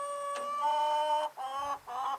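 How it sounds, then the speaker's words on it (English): Newly added chickens in an extended coop, split across a fence, give three drawn-out, nasal squawking calls up close, each a clear separate cry with short gaps between. "the new chickens are in there"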